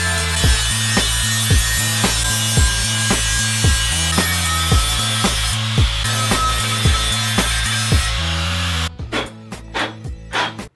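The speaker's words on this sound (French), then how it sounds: "On a fini de poncer notre bonbonne de bière." Power sanding of a thin metal beer keg, a loud rhythmic rasping with regular strokes that suddenly cuts to sparse clattering knocks near the end.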